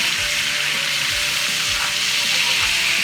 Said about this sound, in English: Now it's going to steam up like that, but this will help you deglaze your skillet.